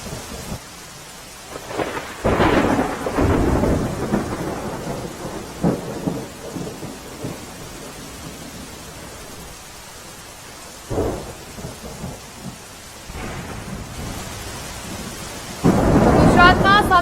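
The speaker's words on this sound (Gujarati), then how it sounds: "મધ્ય ગુજરાતના દાહોદમાં પણ ધોધમાર વરસાદ પડ્યો।" Heavy downpour in Dahod, central Gujarat, with steady rain on surfaces and deep rolling thunder swelling in several loud bursts, the last near the end.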